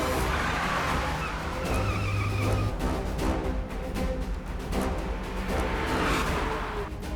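A car swung around fast under urgent pressure, its engine roaring loud and close with a brief tire squeal and a rush of motion, one continuous burst.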